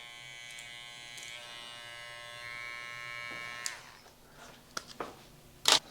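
Electric hair clippers buzz steadily against the grain of a beard, a close, sustained hum that shifts and tapers, then gives way to a few short clicks and scrapes.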